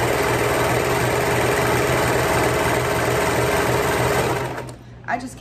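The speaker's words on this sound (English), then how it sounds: "I am about to reposition the camera so that you guys can actually see me sewing and what I'm sewing" A sewing machine running steadily and loudly while sewing a swimsuit, a continuous close mechanical whir that stops near the end, followed by a brief faint sound.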